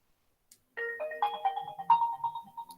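A phone rings with an office call: a melodic electronic ringtone plays alone, close and clear, as a short rising run of tones that settles on a repeated note.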